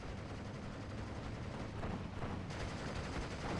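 Gunfire in the World War II strategy game Steel Division II, with dense overlapping shots and distant battlefield rumble running continuously, loud and cluttered, with no talking.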